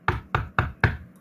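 Four evenly spaced, firm knocks on a door, close and sharp, with no voices between them.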